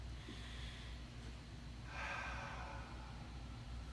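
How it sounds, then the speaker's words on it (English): A long, slow breath drawn in through the nose and released through the mouth, close and airy, the exhale swelling louder over steady background hum. "Take a nice deep breath from the belly."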